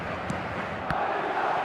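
Stadium crowd in the football video game eFootball 2026, a steady broad roar of massed fans with a couple of brief louder swells, continuous throughout and no talk over it.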